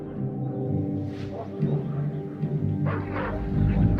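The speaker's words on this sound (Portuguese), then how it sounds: "já se formou uma população de cães ferozes" Feral dogs roaming around small volcanoes bark in short, scattered bursts at a middling distance, set against a steady droning background.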